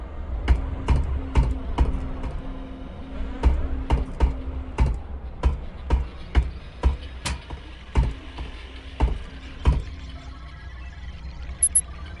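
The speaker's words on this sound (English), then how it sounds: "Go ahead and use this keyboard." Typing on a computer keyboard in the video game Unreal 2 produces a steady run of crisp key clicks, close and evenly paced over a low background hum, with no speech.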